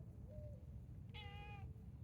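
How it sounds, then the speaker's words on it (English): Waffles, a newly adopted pet cat in a farm barn, gives a soft, faint chirp and then one clear drawn-out meow over a steady low background hum. "it's our new cat."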